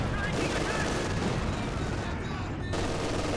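Brummbär assault gun firing in Company of Heroes 2, heard as dense, continuous battlefield gunfire and booms in a 2v2 match, loud and sustained throughout with a brief dip near the end.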